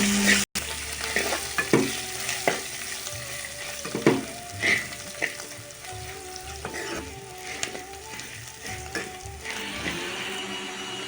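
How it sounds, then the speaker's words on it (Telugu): Fenugreek seeds, curry leaves and chopped coriander frying in hot oil for a bitter gourd fry, a steady close sizzle broken by scattered clinks and scrapes of stirring, with no voices. "తిరుమతి గింజలు వేగిన తర్వాత కరివేపాకును వేసుకోండి"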